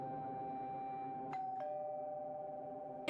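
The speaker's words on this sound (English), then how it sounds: "I pressed the doorbell." Doorbell pressed in the game Dissolving, a soft two-note chime ringing over a quiet sustained ambient drone, faint and somewhat distant.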